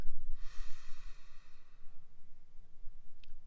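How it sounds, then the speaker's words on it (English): During a sitting meditation, someone takes a single slow, deep breath: a soft, airy inhale up close, followed by quiet stillness over a low background hum. "So just take a deep breath and get focused."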